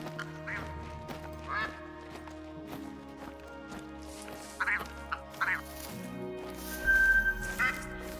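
Honking calls of a grey goose in theHunter: Call of the Wild come in a few separate bursts, paired and spaced apart, over a low droning game ambience with shifting tones.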